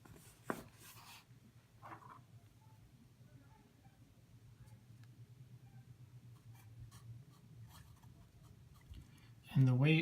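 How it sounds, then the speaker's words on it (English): Pen scratching out notes by hand at a tabletop game of Tunnels & Trolls, faint and steady over a low room hum, ending in a louder burst. "So let's write that down."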